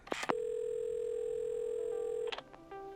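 A telephone dial tone sounds as a steady, clean hum for about two seconds, framed by brief handset clicks and fumbling at the start and end, quiet and close.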